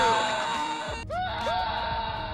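A scream sound effect from the Counter-Strike 1.6 video game: a loud, strained vocal cry with wavering pitch that breaks off, then comes back as shorter rising yelps.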